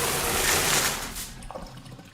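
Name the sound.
shower running in Blade Runner 2049 film scene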